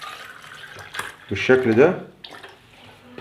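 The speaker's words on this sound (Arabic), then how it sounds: "وهنضع فيه شوية مية من الفلتر او مية مقطرة" Filtered or distilled water poured into a drinking glass, a short splashing pour rising in pitch as the glass fills, heard close and under a man's speech.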